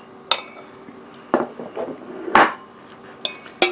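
Spoonfuls of banana steel cut oats cooked in an Instant Pot are ladled into breakfast bowls, giving a few separate clinks and scrapes of utensil against dishware, with short quiet gaps between them and no talk.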